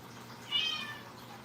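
A house cat gives one short, fairly faint meow while waiting to be fed wet food.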